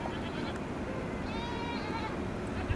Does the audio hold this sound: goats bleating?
yes